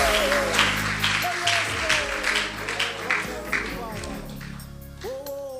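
A church congregation applauding and cheering during a worship service, the clapping running under a preacher's voice and sung or shouted phrases throughout.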